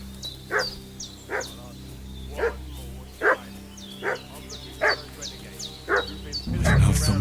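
A dog in the video game Kingdom Come Deliverance 2 barks in about eight sharp, evenly spaced woofs over a low steady ambient hum, with a heavier rumble rising at the very end.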